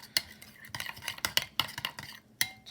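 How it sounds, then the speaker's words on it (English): Chicken salad is mixed with Dijon mustard in a bowl, giving a run of close, sharp clinks and scrapes of a utensil against the bowl in an uneven stirring rhythm. "we're going to mix all that up nicely so it's all mixed together"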